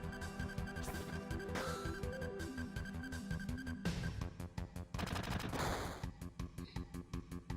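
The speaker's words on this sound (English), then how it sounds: "Your machine gun just did 1 damage to, like, an armorless girl." Rapid machine gun fire in the game Final Fantasy VII, with dense continuous bursts over a looping musical backdrop and then a rhythmic chatter of shots toward the end, loud and without talk.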